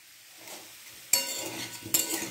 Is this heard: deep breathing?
no